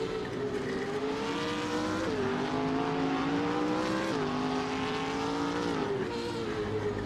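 A Porsche 911 RSR race car roars in a racing video game, its loud engine whining steadily and dropping pitch at two upshifts before climbing again.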